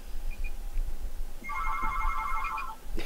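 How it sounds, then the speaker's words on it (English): A phone ringing on an outgoing call, a single bright electronic trill of about a second and a half that rises mid-clip over a low background hum, with no one speaking. "I'm just going to ding his phone a couple times."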